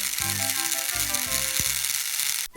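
A Tomy Thomas & Friends toy train motor runs loudly and close, a steady high whirring buzz with a rattling, ratcheting gear chatter that continues throughout and stops abruptly at the end.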